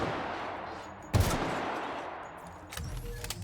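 A single sharp gunshot rings out in The Outer Worlds, a loud broadband crack followed by a fading tail, with a second, softer burst of shots near the end over a low game ambience.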